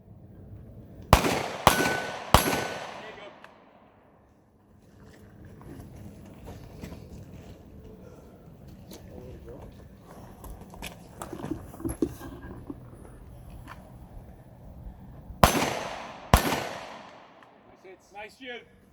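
Gunshots ring out at a shooting range during a men's training retreat: three sharp, loud cracks close together, then a quiet stretch with murmured talk, then two more shots near the end.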